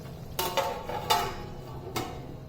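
A metal lid set down on a cooking pot of chicken bhuna: a few sharp clinks and clatters spaced about a second apart, close by over a low kitchen hum.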